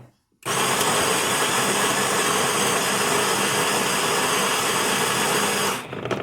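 A Breville Barista Max espresso machine's built-in grinder grinding coffee beans, a steady loud whirring drone that starts abruptly after a brief silence and runs continuously for several seconds before cutting off.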